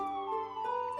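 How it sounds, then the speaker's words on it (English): Ambulance and police car sirens wail steadily from outside in the FLESHBREAK video game, a sustained tonal wail under a quiet game soundscape, with a brief bright click at the very end. "Why are there so many ambulances and police cars with their sirens on?"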